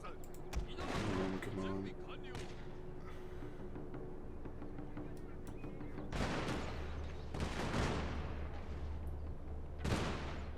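Gunfire from weapons in Shogun 2 Total War, shots and volleys cracking over a background battle din, with a voice speaking briefly near the start.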